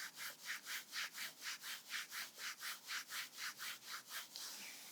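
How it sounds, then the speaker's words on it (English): Hands rub briskly back and forth over the outside of a knee, about fourteen even strokes in steady rhythm, close and soft. "using your hands, just rub the outside of that knee"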